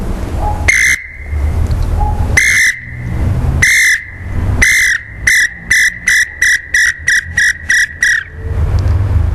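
Someone whistles an imitation of the call of a male Tataupa Tinamou, a forest bird. A few loud, drawn-out tremulous whistles speed up into a rapid run of short, evenly spaced notes, close and clear with no talking.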